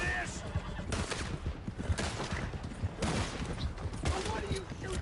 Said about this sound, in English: Why do you shoot those bastards?